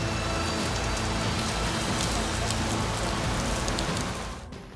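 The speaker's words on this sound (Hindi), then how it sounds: "शुक्रवार को देर रात मुंबई के कई इलाकों में जमकर बारिश हुई।" Heavy rain pours steadily in Mumbai, a dense, loud, unbroken hiss of water drumming on surfaces that eases slightly at the very end.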